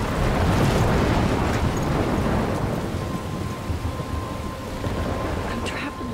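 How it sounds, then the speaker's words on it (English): A thunderstorm in the video game Life Is Strange: heavy rain roars steadily with deep rumbling thunder underneath, loud and continuous, easing slightly midway with faint wind noise. "I'm trapped in a storm?"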